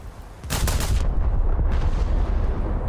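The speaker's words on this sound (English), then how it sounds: "launch a salvo, see what happens" A naval gun salvo from the German battlecruiser Von der Tann in World of Warships: a loud, sharp booming blast followed by a rolling, sustained rumble that fills the rest of the moment.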